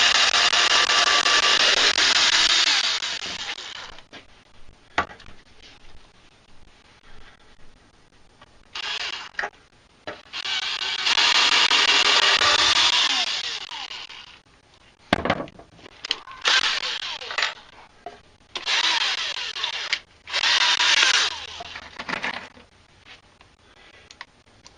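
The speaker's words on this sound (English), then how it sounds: "I usually like to pre-drill the holes first before I put the screws in" A power drill pre-drills screw holes in wood, whirring loudly in repeated bursts of several seconds each, separated by short pauses and clicks as the bit is repositioned.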